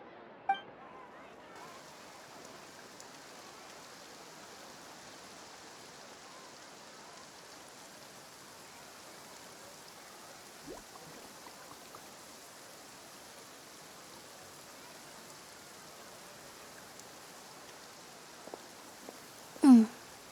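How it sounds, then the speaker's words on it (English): Rain falls in Fontaine in the video game Genshin Impact. It makes a soft, even hiss that holds steady throughout, with a couple of brief clinking taps near the end. "Looks like rain."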